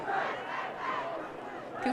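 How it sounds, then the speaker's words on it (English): Czech supporters in the stands chanting and cheering at an under-20 European ultimate frisbee match against Poland, a crowd roar of voices rising and falling at moderate distance. "the whole Czech contingent on the stands cheering with them, trying to get back into the game"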